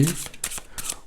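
Tarot cards are shuffled in three quick, crisp riffling bursts, close by and brief.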